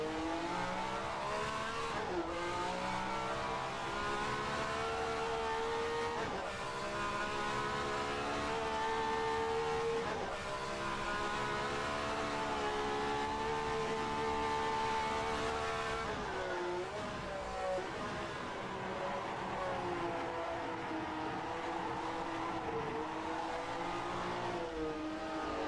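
A 1967 Formula One race car engine, driven on the Mosport track in an online racing game, revs loud and steady throughout, its pitch rising and falling with shifts, with occasional tire squeal.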